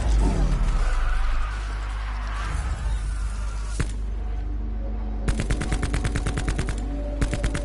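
Gunfire in Call of Duty zombies on the Tag der Toten map, shooting down icicles: single sharp shots, then rapid automatic bursts close up, with people talking over some of it.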